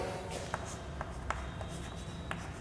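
Marker or chalk scratches on a classroom board during a physics lesson, several short, sharp strokes tapping and scraping at an irregular pace over a faint steady room hiss.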